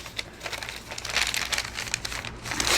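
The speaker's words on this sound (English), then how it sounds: "So I am going to fold them in half." Paper sheets for a junk journal crinkling and rustling as they are folded in half, a close, continuous crackle that grows louder toward the end.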